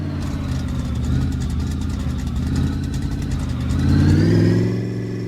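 A refurbished car engine in a video game hums steadily at a mid pitch, then revs up louder toward the end before settling again, with a dense, continuous mechanical drone and no talk.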